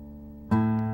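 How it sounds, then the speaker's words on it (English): Low bottom string of an acoustic guitar in CGDGAD tuning, capoed at the second fret, plucked once after a faint ringing hum and left to sustain close and clear. "So the bottom string sounds like this,"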